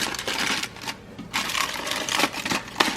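Aluminium foil folded over several times, producing bursts of crinkling and crackling that come and go with brief pauses between folds.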